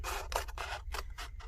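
Scissors snip through paper to cut out a watermelon craft, a quick series of close, crisp strokes in an uneven rhythm, heard alone with no voices.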